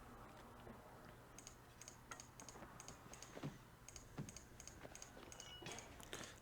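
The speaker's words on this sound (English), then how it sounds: "Lots of clicking, and I'm in the market for a stealth mouse" Quiet computer mouse clicks during a Baldur's Gate gaming session, a rapid run of light, crisp ticks spaced unevenly, heard close against faint background hum.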